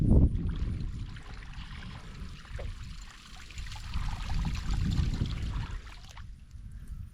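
A Whopper Plopper topwater lure, reeled as fast as possible through river water, makes a continuous churning, splashing wash that rises and falls over several seconds before cutting off near the end.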